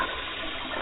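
A toilet flush, a steady rushing wash of water that stays even and fairly loud through its short length, with no voices over it.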